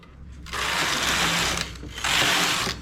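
Knitting machine carriage sliding across the needle bed in two rough, rattling passes, each a steady mechanical rasp lasting about a second with a short pause between, close by and alone.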